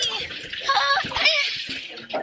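Seawater being poured and splashed into a bucket holding fish and crabs, a close gurgling, splattering pour with a voice talking over it.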